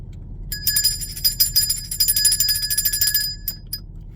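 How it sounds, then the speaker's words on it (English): A small bright bell rings rapidly and repeatedly for about three seconds, then gives two last separate dings. It sounds close and clear over a low steady hum. "while I ring this bell of enlightenment"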